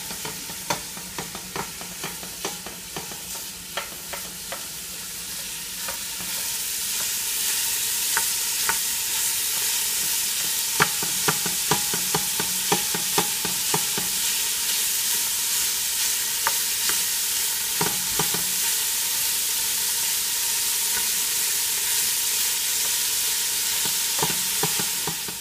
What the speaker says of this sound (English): I'm going to brown the ground chuck.